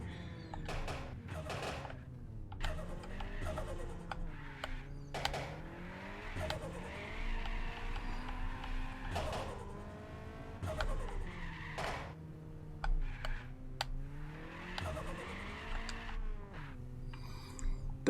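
Honda Civic time attack car on track, engine revving hard with repeated rising and falling pitch as tires spin and squeal through corners, loud and close throughout.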